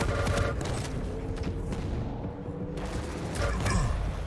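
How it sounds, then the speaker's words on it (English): Rocket launcher blasts and mixed weapon fire in a fast Quake duel at the ESWC 2018 semi-final, a busy run of explosive booms and crackling shots with heavier bursts at the start and near the end. "Oh, that was a nasty rocket."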